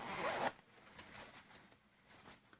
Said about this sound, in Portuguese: Zíper invisível.